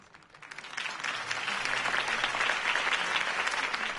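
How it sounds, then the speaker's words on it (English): A crowd in a Batman video game applauds after Harvey Dent's campaign speech. The applause swells quickly into dense, sustained clapping that carries on throughout. "could have heard that applause"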